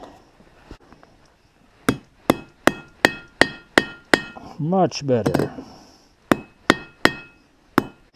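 Metal hammer strikes on an anvil while riveting a handle for a twine cutter, about a dozen sharp ringing blows in irregular bursts with a brief scraping or clattering patch midway; a voice speaks briefly near the start.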